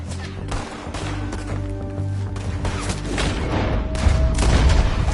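Repeated gunshots crack through a Red Dead Redemption 2 firefight, dense overlapping bursts over a low rumbling bed with no talk, growing louder toward the end.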